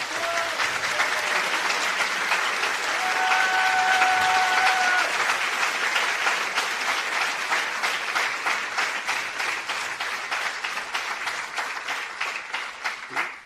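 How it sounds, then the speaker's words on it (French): A conference audience gives a sustained ovation of dense applause that stays loud and steady throughout, then thins out toward the end into separate claps. "Ovation."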